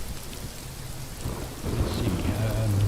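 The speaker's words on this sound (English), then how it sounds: "And now we have to wait out the storm." Thunderstorm with rain in the survival game Rising World, a steady hiss of rainfall with low rumbling thunder that swells louder in the second half, no voices.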